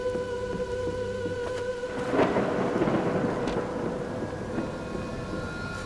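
A thunderstorm in the video game Spate, with steady rain pattering on surfaces and a rolling thunder rumble that swells near the middle and then fades back into the constant downpour, with no voices.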